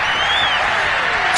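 Roaring stadium crowd cheering after a 49ers touchdown in the Madden football video game, a loud, steady wash of cheers and applause with a faint rising whistle-like tone across it.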